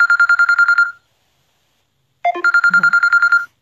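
A phone rings with an incoming call: two loud bursts of rapid, evenly pulsed electronic ringtone tones, separated by about a second of silence, close and alone with no talk.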